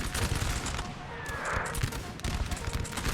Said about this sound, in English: I think it's just musket fire